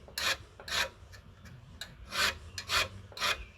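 A Japanese mado nokogiri saw tooth is rubbed with a file to remove the burr, giving about six short, close rasping strokes in an uneven rhythm.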